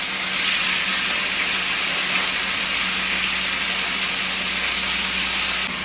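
Teriyaki beef fries hard in a pan of hot oil, giving a loud, steady, unbroken sizzle that runs throughout with no one talking.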